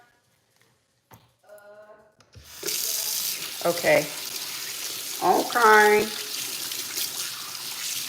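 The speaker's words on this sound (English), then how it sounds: "I use warm water to wash my hair." Warm water runs from a tap during hair washing, a steady splashing flow that starts after a quiet opening, with someone speaking briefly over it.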